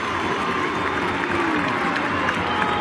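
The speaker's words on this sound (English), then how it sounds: "The Magpie Army trying to cheer through a goal from one of their cult figures" Collingwood supporters in the Magpie Army cheering as a goal goes through at an AFL match against North Melbourne, a broad crowd roar with scattered applause underneath a commentator's voice.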